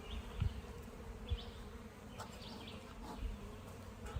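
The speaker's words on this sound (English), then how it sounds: "Let's not disturb the bees even more." Honey bees buzzing around an open beehive on a June day, a steady swarm drone with individual bees droning briefly closer past the listener.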